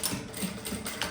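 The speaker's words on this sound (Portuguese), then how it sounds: "agora eu vou passar a costura aqui do contorno pra poder dar o acabamento aqui" Sewing machine running a simple stitch around the outline of a handmade fabric bag, a quiet, steady mechanical whirr with faint rhythmic ticking, close by and without talk.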